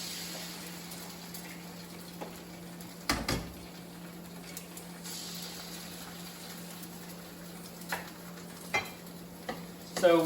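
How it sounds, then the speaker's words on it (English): Eggs going into a pan with browning onions and being scrambled, a faint steady sizzle with occasional stirring scrapes and clicks of a utensil against the pan, close and without talk. "now that the onions have started browning, we're going to put our eggs in to be scrambled"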